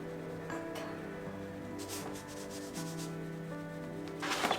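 Soft pastel stick rubbing across paper in steady scratchy strokes, continuous and close, with a few brighter swipes toward the end.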